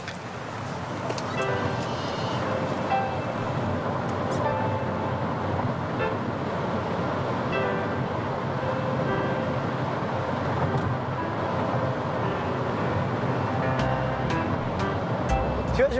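Cars pass in a steady stream of road traffic, with horns tooting now and then over the continuous rumble. Faint voices can be heard in the mix.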